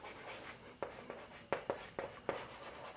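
Pen strokes scratching across paper while working through a linear equations problem in a maths class, a handful of short separate taps and scrapes spaced irregularly over a faint steady background hiss.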